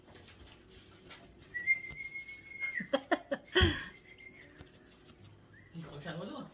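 Someone imitates a bird call with quick, high, repeated chirps in two rhythmic bursts, broken by shorter whistles and a soft thump, heard close and clear outdoors.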